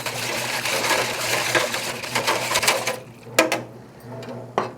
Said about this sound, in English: let's get this all whisked up to make sure it's nicely dissolved